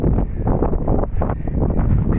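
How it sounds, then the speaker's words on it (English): Wind buffets the microphone on an exposed hilltop, a steady, loud rumbling roar with gusty swells that fills the whole moment, with no voices. "Just take that wind noise in for what it is"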